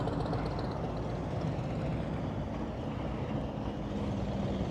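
A motorcycle engine shaking at low throttle during slow-speed riding practice in Florida, giving a continuous low rumbling drone at a steady, fairly loud level with no voices over it.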